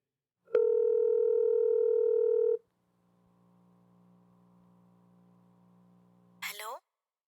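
A telephone line sounds a steady tone for about two seconds, then goes quiet apart from a faint low hum, and a voice briefly answers at the end.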